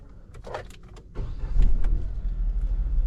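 A Citroen Basalt is started up; after a click and brief mechanical whirring, a low, smooth engine hum swells in and settles into a quiet steady idle.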